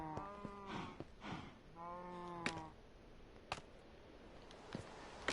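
Cows at a cow farm in Minecraft give two long, close, tonal moos, one after the other, followed by sparse clicks and taps against a quiet background.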